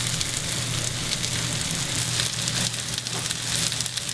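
Burger patties fry in a pan on high heat with a steady, dense sizzle and crackle that holds evenly throughout at close range, over a low constant hum, with no voices.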